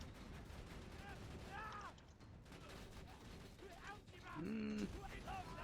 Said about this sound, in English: the rockets make so much audio clutter that you can't really tell how fast they're firing